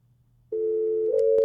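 A steady electronic telephone tone on a call from the league office to team president Michael Bidwell, starting abruptly after near silence, shifting pitch slightly midway, with a brief click near the end.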